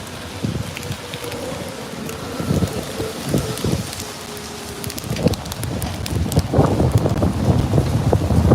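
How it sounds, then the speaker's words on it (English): Strong wind buffets an outdoor microphone during a North London marathon, a continuous low rumbling roar that swells in loud gusts, heaviest toward the end. "I got some serious wind here."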